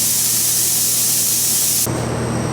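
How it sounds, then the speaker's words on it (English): Steam hissing out of a pressure canner after a batch of raw-packed chicken, a loud, steady close-up spray that suddenly drops to a thinner, quieter hiss near the end. "I've still got a little bit of steam peeping out the top"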